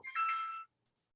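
A mobile phone ringtone chirps once during a lecture, a short bright electronic trill that cuts off after about half a second into silence.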